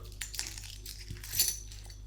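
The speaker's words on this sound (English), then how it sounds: "I've got my keys" A small bunch of keys jingles close by, a few light metallic clinks and chinks scattered across a couple of seconds over a low steady room hum.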